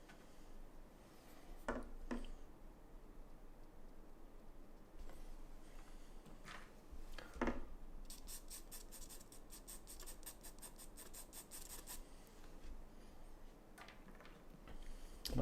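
Charcoal stick softly rubbing and scratching on paper while shading a portrait in a studio, with quiet intermittent strokes, a few sharper taps and a rapid run of scratchy strokes near the end.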